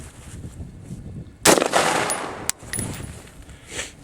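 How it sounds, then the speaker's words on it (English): A single loud, sharp AR rifle gunshot from a slow-fire string in extreme cold, followed by a brief echoing tail and a smaller crack about a second later, then quiet outdoor ambience. "We're going to put it on fire. We're going to do the same thing. We're going to do 5 slow shots"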